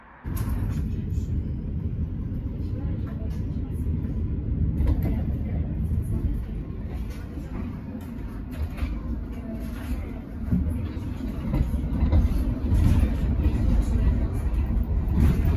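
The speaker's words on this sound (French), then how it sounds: "Je prends le 2e bus" City bus ride heard from inside, a constant low engine rumble and road noise that holds steady throughout, with faint interior sounds on top.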